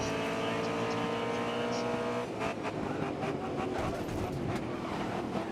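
Race car engines roar in a GRID Autosport race at Mount Panorama, a steady loud engine drone that shifts pitch sharply midway as one car overtakes another, with tire and crash-like clatter following.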